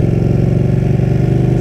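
A Ducati 959 Panigale motorcycle engine at low speed, with a loud, close, steady rumbling throb that keeps an even pulse throughout.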